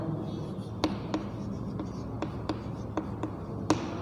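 Chalk or marker writing on a board during a maths lesson, sharp scattered taps and strokes at an irregular pace over a quiet room hum.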